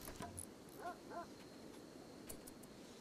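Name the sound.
dog in the video game RimWorld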